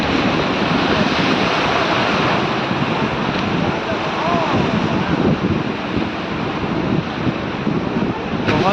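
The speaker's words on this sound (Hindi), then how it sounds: "पांडिचेरी के बीच में लहरें जैसे कोशिश कर रही हैं, छू लेना चाहती हैं।" Ocean waves at Puducherry beach: continuous loud surf washing in, with heavy wind buffeting the microphone throughout and no break in the roar.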